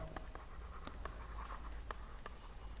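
A pen or marker writing on a board during a class 10 maths lesson, giving faint short scratchy strokes in an irregular rhythm over a quiet room hum.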